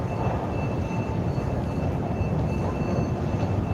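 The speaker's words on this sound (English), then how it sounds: "we're gonna take the metro" Steady low rumble of a Helsinki metro train at Sörnäinen station, a continuous rolling roar with a faint high whine on top and no break through the whole stretch.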